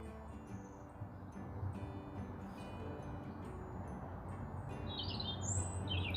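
Short, high bird chirps and calls scattered over a steady low background hum, faint and fairly distant, with brighter twittering notes toward the end.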